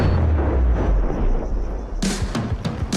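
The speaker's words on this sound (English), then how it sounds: "Whoa, that one exploded fast." A nuclear bomb blast in a video game, a heavy rumbling boom followed by a series of sharp, loud cracking bursts, close and without speech.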